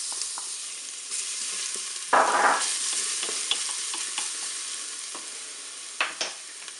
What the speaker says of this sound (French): mon huile est chaude, le préchauffage est terminé. Je vais mettre dans la cuve l'ail râpé.